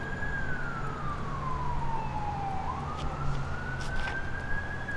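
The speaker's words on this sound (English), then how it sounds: "You can hear how busy the city of San Francisco is on a Friday afternoon" Busy San Francisco street on a Friday afternoon: a siren wails with a long falling then rising tone over a constant bed of city traffic rumble, fairly distant and steady.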